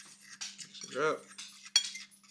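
A utensil clinks and scrapes against a bowl while mixing a mushroom coating batter of egg, paprika and garlic salt, with several short taps and one fuller swirling stroke, close and fairly loud.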